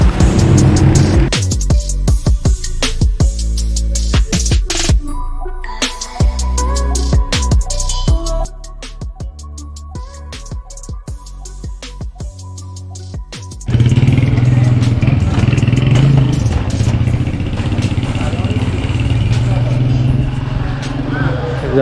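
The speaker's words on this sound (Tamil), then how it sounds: "செம்ம டிராஃபிக்கு, யாரும் வண்டிலாம் நிறுத்த மாட்டேங்கிறாங்க" Dense street traffic in Tehran, with car and motorcycle engines rumbling and passing close by in a steady loud wash. The noise thins midway, then swells again, and people talk over it.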